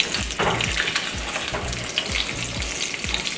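Salmon fillets flipped in a pan of hot oil, a loud steady sizzle and crackle with soft repeated thumps and scraping from the turning, no voices.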